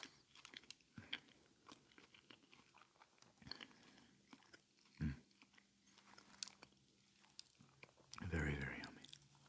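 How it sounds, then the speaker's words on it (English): Close, wet chewing and crunchy bites of a Boar's Head maple turkey sub sandwich, irregular munching with a louder crunching burst near the end, no talking. "let's go ahead and just keep chowing down"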